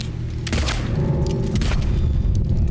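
Gunfire in Silent Hill 2: a couple of loud, booming gunshots ring out with sharp broadband bursts about a second apart over a dense, rumbling game backdrop, with no talking.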